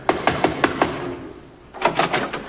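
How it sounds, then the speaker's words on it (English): Knuckles rap on a door in two bursts of quick, firm knocks, about five raps, then a short pause and four more, close and clear in a quiet room with no talking. "Let's knock."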